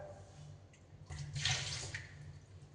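Water from a pot of boiled potatoes is poured out into a kitchen sink, a short soft splashing gush that swells in the middle and then tapers, quiet and close.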